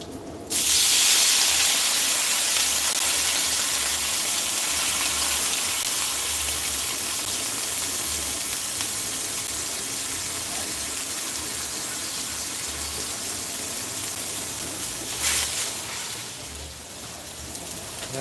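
Steam hisses loudly over shrimp and pork wontons browning in a hot pan, starting abruptly and holding as a dense, continuous close-up rush with a brief surge near the end.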